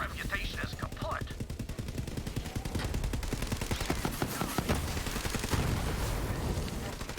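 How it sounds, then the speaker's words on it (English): A Gatling gun in Borderlands 3 hammers out a long, steady stream of rapid shots, loud and continuous throughout, with faint game effects underneath. "I just used my Gatling gun"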